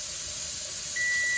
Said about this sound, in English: there's the timer